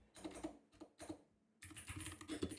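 Quick bursts of keystrokes on a computer keyboard as a paragraph is typed into a website portfolio builder, close and clear, pausing briefly before a denser run of clicking keys.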